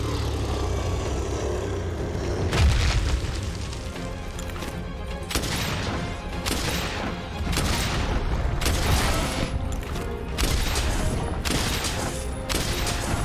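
Spread ammo gunfire in Monster Hunter World rattles out in repeated loud bursts of crunching booms, coming in irregular volleys over a dense, busy game background with no talking.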